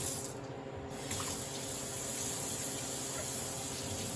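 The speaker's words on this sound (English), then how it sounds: "First, we're going to wash them up real good" Zucchini washed under a running kitchen tap, a steady close water stream splashing into a sink throughout, with a brief dip in the flow near the start.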